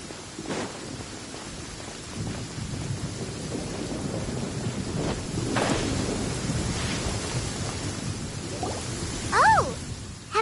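Thunderstorm with rain in the video game Genshin Impact: steady rain hiss under rolling rumbles of thunder, with a brief higher chirp near the end.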